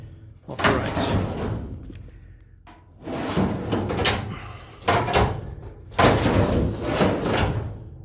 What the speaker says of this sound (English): I thought it'd be good to make sure that the drawer actually operates